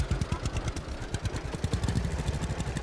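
A tractor engine in the farming game Farmer's Dynasty chugs away with a rapid, even clattering throb, moderately loud and steady for a few seconds.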